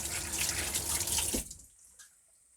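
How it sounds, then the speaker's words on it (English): Water runs hard from a tap as hands are washed beneath it, a steady loud splashing rush that cuts off abruptly, leaving a few faint drips and a quiet room. "I go wash my hands off."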